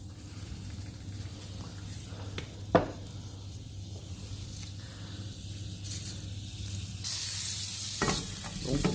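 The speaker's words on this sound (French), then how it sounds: "Je fais saisir mes carottes dans de l'huile" Carrots searing in hot oil in a pan, a continuous moderate sizzle with occasional stirring clicks and a brief sharp knock, the frying growing louder and brighter toward the end, no speech.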